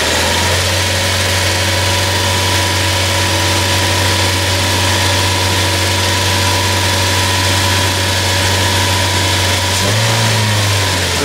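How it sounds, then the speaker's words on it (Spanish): A car engine held at a steady, high roughly 3000 rpm during a valve actuator check, a loud continuous drone with constant pitch that shifts slightly near the end. "Ahora vamos a acelerar el vehículo, a colocarlo en unas 3000 revoluciones para ver el comportamiento de la válvula."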